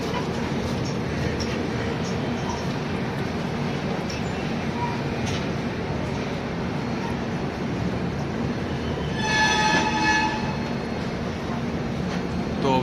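Steady rumble and clatter of the 12450 Goa Sampark Kranti train running nonstop out of New Delhi, heard from inside the coach, with a brief rise in rattling and a faint squeal near the end and some voices in the background.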